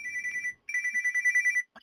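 A telephone rings while a call is being merged, two clean electronic ringtone bursts in a fast pulsing pattern, the second longer, followed by a brief faint sound.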